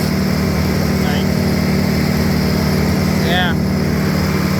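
An overheating tractor engine drones steadily and loudly at a constant pitch throughout, crawling along at low speed, with a couple of faint chirps above the engine and talk over it.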